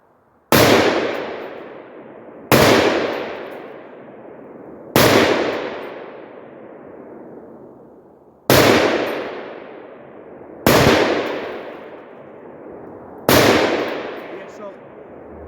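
Six sharp, loud rifle shots from a Palmetto PA-10 Gen3 AR-10 fired at a 200-yard target, spaced about two seconds apart, each with a long rolling echo trailing off outdoors.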